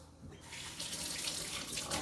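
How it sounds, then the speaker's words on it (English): Water runs from a kitchen tap as a hand is rinsed, a steady close hiss and splash that swells after a brief quieter start and carries on with no talk. "I'll rinse my hand."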